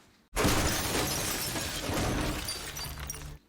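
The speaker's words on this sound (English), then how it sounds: "They are liking breaking these glass wall panel door thingies this season, aren't they?" Glass wall panel door shattering in a drama scene: a sudden loud burst of breaking glass that sustains as a dense crashing spray of shards for about three seconds before cutting off.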